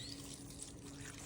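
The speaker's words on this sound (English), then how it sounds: "Now we're gonna add 4 cups of water." Four cups of water pour over pasta sauce and dry noodles in a slow cooker, a quiet, steady trickling wash lasting about a second.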